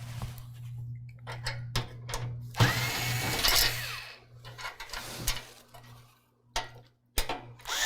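Thumb screws are worked loose from a PC case frame with a screwdriver, giving close, intermittent metallic clicks and scrapes with a brief louder rasping burst, separated by quiet pauses.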